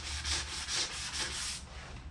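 Steady hand sanding of a headlight on a 1973 Yamaha AT3 motorcycle, a close, continuous gritty rubbing in even back-and-forth strokes, with no voices.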